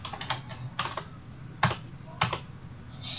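Computer keyboard typing as C++ hello world code is entered in Visual Studio, with irregular clusters of close, crisp key clacks separated by brief pauses, no voices.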